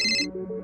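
A phone's ringtone sounds for an incoming call, a bright electronic chime that breaks off and gives way to a lower tonal melody, loud and close with no voices over it.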